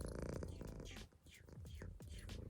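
A pet cat purrs steadily and close by, a continuous rumbling throb that holds for the whole stretch with only a short dip partway through, with no talking over it.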